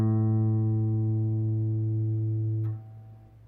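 The A string of a guitar, tuned to pitch, is plucked once and sustains as a clear, steady note for nearly three seconds before it is damped with a faint click.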